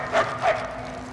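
Two short barks from a dog in the Mad Max video game, close and fairly loud, spaced about a third of a second apart over a steady low background hum.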